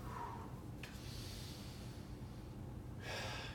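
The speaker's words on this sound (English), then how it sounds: "Gonna do a little bit of breathing." During a bent-over stretching exercise, a person draws in two audible breaths, a sharp intake near the start and a longer one near the end, with quiet low background noise between them.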